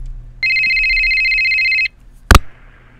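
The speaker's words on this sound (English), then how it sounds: "Oh, we got a phone call." A telephone rings once with a steady electronic tone of about a second and a half on a live radio show, followed by a short sharp clunk as the line is picked up, with low background hum.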